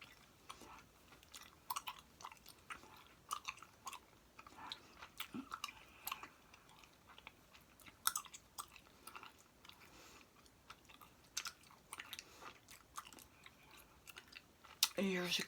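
Soft, wet bubble gum chewing, close and quiet, with irregular smacks and small crackles spread across the stretch and a sharper pop near the end; no talking over it.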